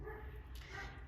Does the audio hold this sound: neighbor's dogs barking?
yes